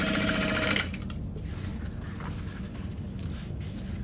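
A sewing machine top stitches along the bottom panel of a Divina tote in light pink thread, running fast and loud for under a second before stopping, leaving low handling noise and room hum.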